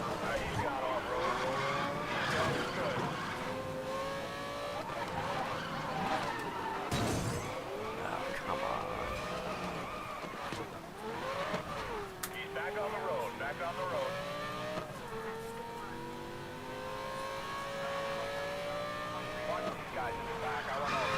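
Cars race in a video game with revving, shifting engines, tire squeals, skids and crash impacts, loud and continuous, while a voice talks over the action.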